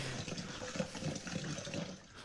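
Water pouring while a flavored drink water is made: a soft, continuous trickling stream with faint gurgling, steady and fairly quiet throughout, close by and without speech.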